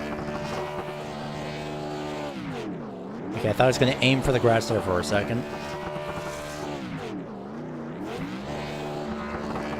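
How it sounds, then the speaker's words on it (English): Truck engine in the My Turn Racing video game at Las Vegas holds a sustained revving drone through a burnout, pitch sweeping up and down with a louder surge midway, under continuous commentator talk. "he's going to aim for the engine destroying burnout"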